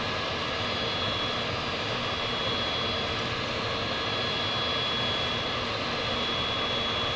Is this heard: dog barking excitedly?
no